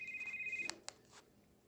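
An Alcatel 1068D budget phone plays a brief, faint electronic ringtone, a sustained tone that stops abruptly and is followed by a couple of sharp clicks.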